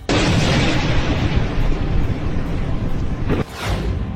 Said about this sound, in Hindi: ताबड़तोड़ हमलों से गूंजा इजराइल। तेल Aviv, Haifa, Nevatim, Beersheba, Netanyahu की नींद उड़ाने वाले धमाकों से बेचैन हो गए हैं ट्रंप।